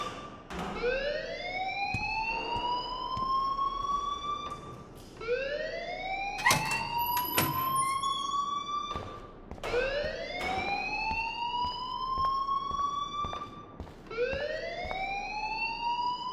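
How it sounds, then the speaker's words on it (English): A wailing electronic alarm rings inside the video game Life is Strange, its rising siren sweeps repeating roughly every four seconds, loud and steady, with a brief harsh buzz in the middle. "please turn off that alarm since that's your job"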